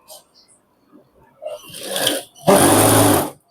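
A sewing machine stitching pant fabric, starting with short faint bursts and building to a loud continuous whirring run of about a second before stopping, with speech mixed in.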